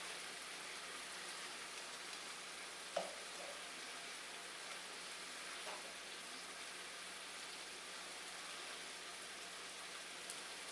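Shrimp frying in a pan with asparagus and grape tomatoes, a continuous dense sizzle throughout with a couple of faint clicks of utensils, steady and even with no talking.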